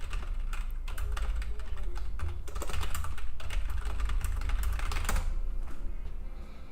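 Rapid typing on a computer keyboard, a dense, steady patter of key clicks running throughout at close range, with no speech.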